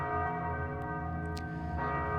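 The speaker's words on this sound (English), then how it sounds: "once you approach the door, the bell will toll" Church bell in Thief II: The Metal Age tolls with a rich, sustained ring, its long humming overtones filling the space steadily and unbroken, with a couple of faint ticks over it.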